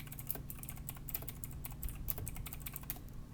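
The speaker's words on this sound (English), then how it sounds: "you're typing in a rhythm" Fingers tap rapidly on a computer keyboard in bursts of soft, fairly close clicks, set over a steady low hum in a room during a tabletop game session.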